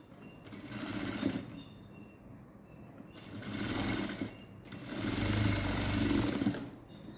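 A sewing machine stitches a blouse in three steady mechanical runs of rapid needle chatter, each a few seconds long, separated by brief pauses, heard close and fairly quiet with no talking.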